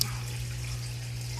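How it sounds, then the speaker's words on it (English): Water dripping and trickling over bio balls in an aquarium sump, fed from a pump above through a diffuser plate, a close continuous splashy patter over a steady low pump hum. "Basically, I'm trying to drip water over these."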